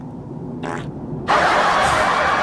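A cartoon fart sound effect: a short muffled puff, then a loud, long, raspy blast that sustains to the end.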